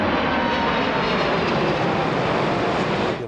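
Aircraft flying low over homes near O'Hare Airport in Bensenville, a loud, steady, broadband jet roar that fills the whole stretch without letting up, with no talking.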